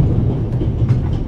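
The Orient Express rolling along in a video game, a loud, dense low rumble of train wheels and carriage noise that holds steady throughout.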